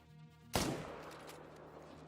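One sharp rifle shot while hunting fallow deer in a hunting video game, a sudden loud crack followed by a long fading echo across open ground, with faint ambience before it.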